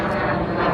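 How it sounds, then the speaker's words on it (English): A fixed-wing airplane passing overhead, producing a steady, loud broadband engine roar that fills the whole moment without talk. "Excuse me, that's a plane overhead."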